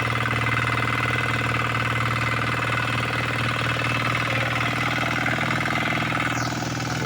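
Engine running hard and steady with a dense, continuous mechanical drone and rattling vibration, loud and close throughout with no pauses and no voices.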